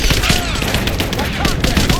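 Gunfire during a Rise of the Tomb Raider firefight: dense, rapid bursts of shots crackle over loud, continuous battle noise, with shouting voices partly mixed in.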